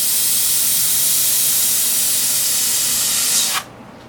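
An airbrush sprays paint with a steady, loud hiss at high air pressure, the stream sounding slightly rough, then cuts off abruptly near the end, leaving a faint background hum.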